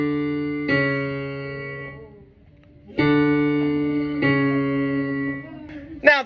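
A musical note D lowered by a flat plays as a clear sustained tone, breaks off, then sounds again twice, ringing steadily with no talk.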